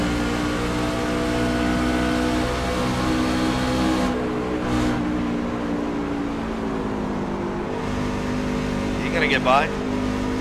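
Onboard engine roar of the number 96 race car at Kentucky Speedway in a racing video game, a loud steady drone with shifting pitch through a wreck, with someone talking briefly over it.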